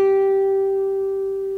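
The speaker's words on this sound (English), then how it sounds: "G at the 12th fret sounds like this." A single guitar G note fretted at the 12th fret rings as a clear, steady tone that slowly decays, played alone.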